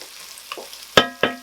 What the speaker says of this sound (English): you can really smell the garlic and the rosemary cooking nice in there now